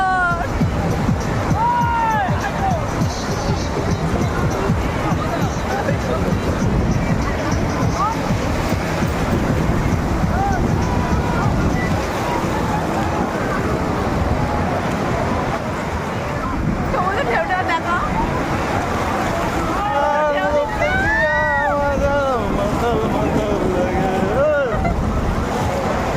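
Sea waves roll in at Udaipur beach, a loud, continuous rushing surf with heavy wind buffeting the microphone, while people's voices and distant shouts carry across the shore.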